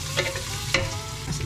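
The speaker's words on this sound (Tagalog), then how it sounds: "Igigisa ko muna sa bawang at saka sa luya at sibuyas" Garlic, ginger and onion sauté in a pan with a continuous close sizzle and two quick stirring scrapes.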